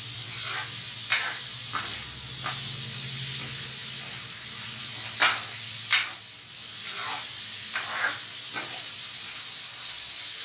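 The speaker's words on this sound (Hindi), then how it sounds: "प्याज को हमें हल्का ही ब्राउन करना है," Onions frying in a pan for anda bhurji, a steady loud hiss and sizzle throughout with occasional sharper crackles and spatters, close up and with no talking.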